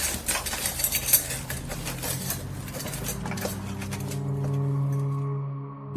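Cutlery and dishes clatter at a table during a fiesta meal, a run of light metallic clinks and taps up close, with a low hum and background tones continuing after the clatter fades.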